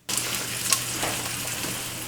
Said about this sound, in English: the best way to know when to add the onion is when the garlic starts dancing